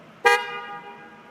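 A car horn gives one short, loud honk during a vehicle service check, then fades quickly into a quiet background.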